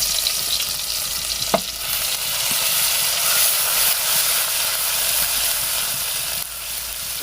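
Garlic, ginger and green chili paste sizzles steadily in hot cooking oil in a wok, a loud continuous frying hiss with a brief clink near the start.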